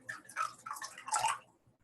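Water is poured into a vessel in a brief, steady splashing gush lasting over a second, close and moderately loud, then trailing off into quiet.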